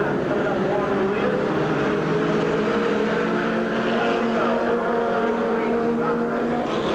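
Race cars battle for position at Silver Spring Speedway, a loud, continuous roar of several engines close by with steady droning tones, a commentator talking over the noise.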